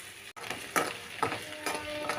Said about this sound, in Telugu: మగ్గే వరకు కొంచెం ఉల్లిగడ్డలు మగ్గనిచ్చుదాం